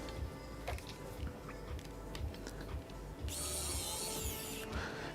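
Screws are driven into a PC case fan during a desktop build, giving faint, irregular ticking and ratcheting clicks. Near the end, a steady high hiss rises over the clicks.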